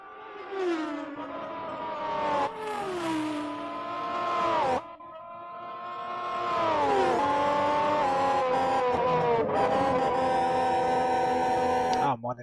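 Formula 1 race cars from the 1991 season racing at the Belgian Grand Prix in the Grand Prix 2 video game, high-pitched engines rising and falling through gear changes as cars pass, loud and close, with a commentator talking over them.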